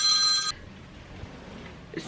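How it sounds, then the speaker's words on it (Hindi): A telephone rings with a bright electronic tone for about half a second, a single short burst, then the room falls to quiet hiss with a faint blip near the end. "सॉरी, सुमैया का फ़ोन था।"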